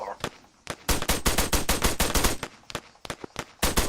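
Rapid bursts of machine gun fire in the military shooter Arma, loud, close, sharp cracks in quick volleys with short pauses between strings.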